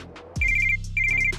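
A telephone rings with a call from the landlord, two short electronic trills in quick succession, loud and close, with no voices.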